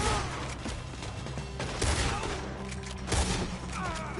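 Gunfire crackles through a shootout in the Red Dead Redemption 2 video game, several sharp shots spaced irregularly with louder bursts near the middle and end over a busy game background.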